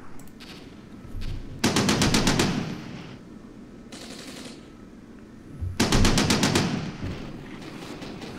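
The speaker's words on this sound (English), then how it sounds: "And BMP's taking some nasty shots here." Bursts of automatic gunfire hit a BMP infantry fighting vehicle during a battle in the Armored Brigade war game, set in southeast Finland. Two loud, rapid rattling volleys come a few seconds apart, with duller impacts and rumble between them.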